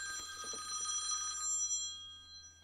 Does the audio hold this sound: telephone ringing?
yes